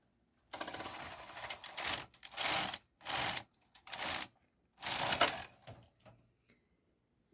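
A domestic knitting machine runs its carriage across the needle bed with the ribber attached, giving five or six loud mechanical rattling passes, each about half a second to a second long, separated by short pauses and ending with a few fainter clicks.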